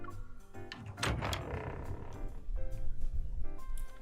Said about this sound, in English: she shrugs and opens the door.